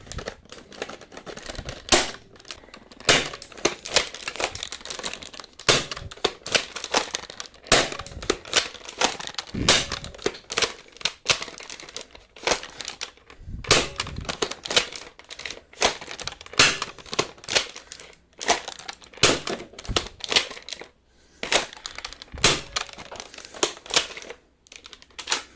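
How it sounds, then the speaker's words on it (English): A modded Nerf blaster fires a long run of darts in quick, irregular bursts of sharp clicks and snaps, close and fairly loud, with brief pauses between volleys. "That is the firing demo of this blaster."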